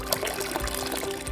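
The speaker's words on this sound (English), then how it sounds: "pour the water over the offering" Water pours steadily over an altar offering, a continuous splashing, liquid stream close by with no speech over it.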